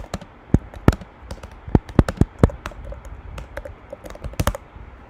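Fast, uneven typing on a computer keyboard, a run of sharp close key clicks with a few louder strikes standing out, no voices.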